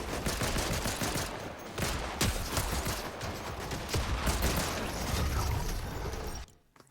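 Dense rapid gunfire from a first-person shooter video game, sustained automatic bursts and sharp cracks packed tightly together, loud and close, cutting off abruptly near the end.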